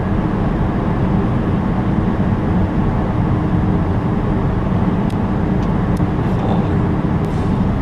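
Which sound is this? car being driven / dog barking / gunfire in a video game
car being driven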